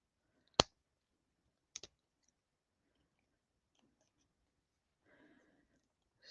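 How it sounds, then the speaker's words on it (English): Wire cutters snip through a steel piece in two sharp, isolated clicks about a second apart, close and crisp against a quiet room, followed by faint handling rustle. "Had to get the wire cutters that will cut steel."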